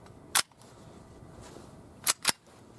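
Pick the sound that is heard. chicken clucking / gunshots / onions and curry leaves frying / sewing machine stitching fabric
gunshots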